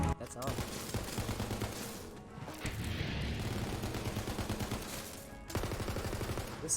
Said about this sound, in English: I'll show you guys the guns shooting real quick